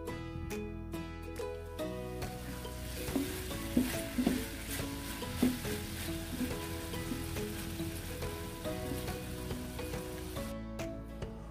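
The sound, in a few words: chicken frying on both sides in a pan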